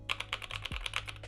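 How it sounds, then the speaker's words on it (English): Fingers type quickly on a clicky Newfie RGB mechanical keyboard, about a dozen sharp, close key clicks in a brisk, slightly uneven rhythm. "I personally love a good clicky keyboard."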